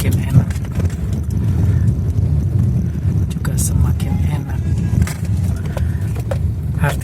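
A Suzuki Ertiga car pulls hard on the road during an acceleration test after a coil check and tune-up, its engine and tire roar steady and close, mixed with wind buffeting on the microphone.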